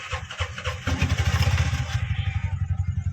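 Auto rickshaw with a faulty starter cranks and catches, then settles into a loud, close, rhythmic chugging idle, with no talk over it.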